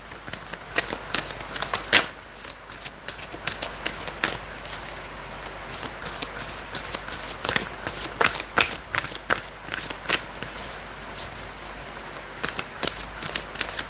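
Tarot cards being shuffled by hand, a long run of crisp riffling and flicking with irregular sharp snaps and slaps, close and steady for many seconds with no talking over it.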